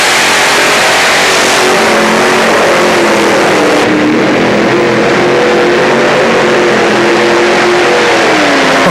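A Chevy 460 engined drag racing machine doing a full pull, a loud sustained engine roar rising in pitch as it accelerates hard, close and continuous throughout.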